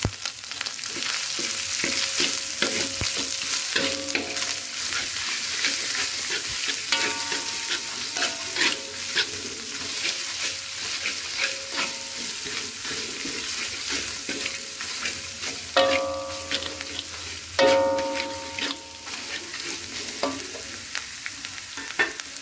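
A spice paste made from ground spice blends fries and sizzles steadily in a pan for gulai nangka, a jackfruit curry, with bursts of scraping stirring throughout and no voices.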